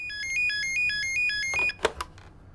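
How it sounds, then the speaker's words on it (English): A telephone rings in a home, a repeating electronic warble in short bursts, followed by a few clunks as the handset is picked up. "The phone has just rung."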